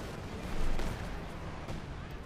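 Artillery shells in a Company of Heroes 2 battle pound the ground in a dense, continuous roar of blasts and debris, a heavier swell early on and another burst near the end, loud and unbroken throughout.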